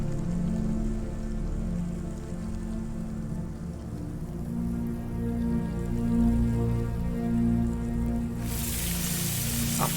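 Omnisphere Creepy Crawlies synth patch held in D minor, a dense, dark, rain-like textured drone with deep sustained low tones and crackling, skittering noise throughout, brightening with a burst of hiss near the end, no voices.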